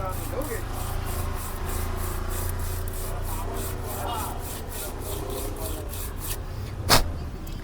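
Steady, rhythmic rasping of a trimmer's fixed blade being rubbed back and forth on sandpaper to sharpen it, close and continuous, with one sharp click near the end.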